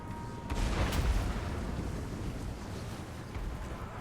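Skaven Poison Wind Mortars fire a volley in a Total War: Warhammer battle, a deep booming thud with a sharp crack early on, followed by a rumbling, windy wash of battlefield noise.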